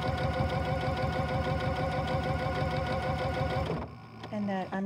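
A sewing machine fitted with a zipper foot stitches piping, running as a fast, steady mechanical chatter for about four seconds before stopping, after which a voice speaks nearby.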